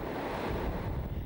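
Roaring typhoon wind and crashing waves on the Jeju coast, a steady loud rush of gusting air and surf with no voices.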